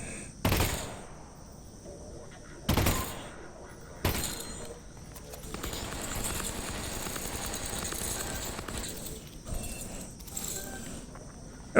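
Gunfire in Half-Life: Alyx: three sharp, loud shots spaced a couple of seconds apart, each a broadband crack, followed by a busier stretch of clattering game noise with a few fainter bursts near the end.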